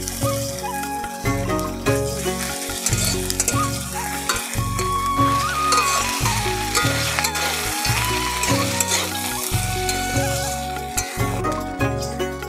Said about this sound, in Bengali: সুন্দর করে আমার সব মশলা ভাজা হয়ে গেছে